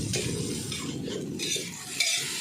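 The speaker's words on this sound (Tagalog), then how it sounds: "Bali ginigisa lang natin muna ngayon." Petchay being sautéed in a pan for pancit bato, with a close, steady sizzle and the repeated scrape and clink of a utensil stirring against the pan, no voices.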